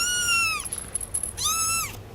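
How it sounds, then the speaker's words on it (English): A pet cat meows twice, each call a long, clear, falling-then-rising cry close by, separated by a short quiet gap. "you're going to hear our cat"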